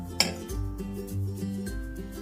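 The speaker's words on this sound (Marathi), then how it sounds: "अशा पद्धतीने आपण इडली कुकर मध्ये हे लावून घेणार आहोत" Metal idli plates filled with batter knock and clink as they are stacked into an idli cooker, with one sharp clink followed by softer scraping and settling sounds close to the mic.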